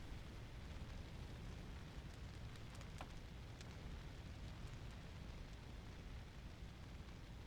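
Roaring fire in the video game Breath of Fire 4, a steady dense crackling rumble with a few brief sharp pops, continuous and fairly faint, heard alone.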